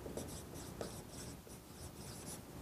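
Pen or pencil writing out a math solution on paper: a steady, faint scratching with short rhythmic strokes, close up, with no talking.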